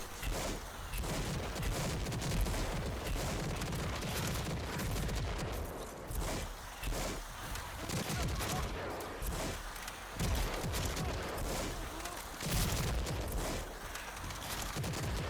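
An overdrive weapon in the video game Rage 2 fires in rapid, dense bursts of heavy booming blasts and thuds, loud and continuous with brief pauses, and a voice talks faintly underneath.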